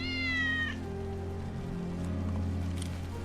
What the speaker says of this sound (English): That's Wedge's cat.